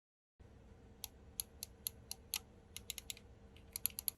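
Coolermaster MM712 wireless mouse buttons clicked one at a time, crisp close clicks at an uneven pace that bunch into quicker runs near the end, over a faint steady background hum.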